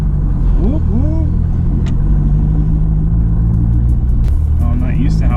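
A Corvette drift car with a new transmission and angle kit is driven and shifted through gears, its engine rumbling loud and close with rising revs and brief drops between shifts, as a voice speaks over it.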